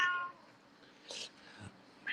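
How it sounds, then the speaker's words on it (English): A pair of Cypriot cats meowing, with a short cry near the middle and another at the end, fairly faint against a quiet background. "Cypriot annoying cats."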